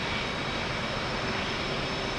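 An F/A-18 jet engine running in the DCS flight simulator during a cold start, a steady, loud, full-band roar and whine that holds unchanged throughout, with no talking.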